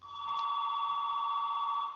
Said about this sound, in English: Hey, I think your phone box is ringing.